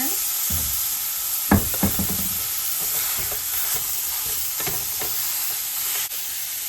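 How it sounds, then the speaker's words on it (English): Hamburger meat frying in a pan with seasoning: a constant hiss of sizzling with a few scraping and knocking strokes from stirring early on, close and fairly quiet. "I'm gonna add my meat and seasoning to the pan now"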